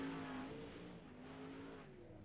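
A dirt late model race car, the number 12, runs a timed lap at Kokomo, its engine a loud droning whine that sags in pitch as it sweeps past, with a faint voice in the background.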